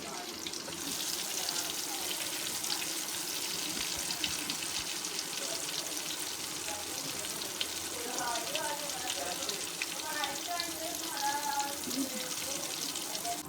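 Chicken wings frying as broast over a low flame, a steady soft hiss and crackle of oil running throughout at moderate level, with faint background noise.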